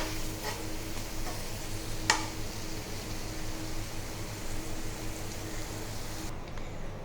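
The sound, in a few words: stirring aloo palak (potato spinach curry) in the pan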